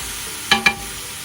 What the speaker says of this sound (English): I like to chop my ground beef up a little bit.